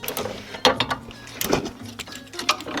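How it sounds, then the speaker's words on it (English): Ratchet clicking as it loosens the 16mm nut on a sway bar end link of a 2013 BMW F30 335i xDrive, several quick sets of sharp metallic clicks up close with brief pauses between strokes. "Remove the nut and pull the end link out."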